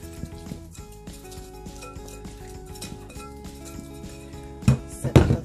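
A bowl is handled and swirled while olive oil is spread around its inside for bread rolls, giving soft clinks and scrapes over a low hum, with louder knocks of the bowl near the end.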